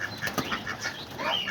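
Homing pigeons beat their wings at a pigeon loft, a few quick, soft flaps and flutters heard close by in a short, fairly quiet burst.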